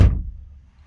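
A solid car door on a Jaguar-era saloon with a half wooden steering wheel closes with one deep, low thunk right at the start, then quickly decays into a quiet low rumble.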